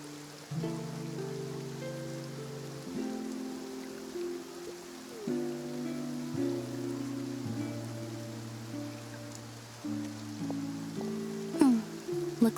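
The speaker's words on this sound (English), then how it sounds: "Looks like rain." Rain falls steadily in the Genshin Impact game, a continuous soft patter that runs throughout under sustained background music.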